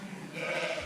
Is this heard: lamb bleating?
yes